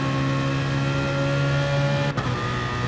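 Onboard BMW GT race car engine in an S1-GT sim racing game, a steady droning note held loud and close, with a brief dip and shift near the end as the gear or throttle changes.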